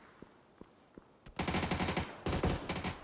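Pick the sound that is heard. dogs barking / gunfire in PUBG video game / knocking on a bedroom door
gunfire in PUBG video game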